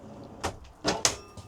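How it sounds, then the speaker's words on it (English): A caravan cutlery drawer in an Adria Altea Dart is opened, giving a few short close thumps and slides in quick succession, clear against a quiet room. "Opening this up, so this will be our cutlery drawer again"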